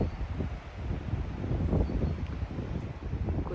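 Outdoors, a gust of wind buffets the microphone in a steady rushing roar with low rumbling swells, loud and close, with no voices.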